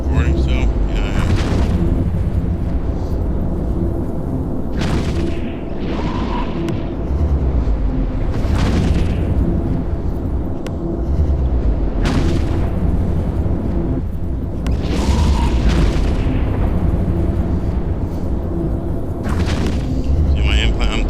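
Booming explosions and rumbling blasts from an attack in the space game Eve Echoes, recurring every few seconds over a constant low drone of game sound.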